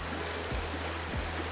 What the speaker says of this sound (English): where we walk along the little trickling creek